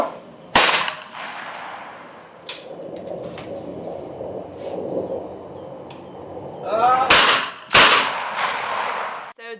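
Shotgun blasts at trap clay targets ring out at an outdoor shooting ground: several sharp, loud reports spaced a few seconds apart, with a couple fired in quick succession near the end, over background chatter.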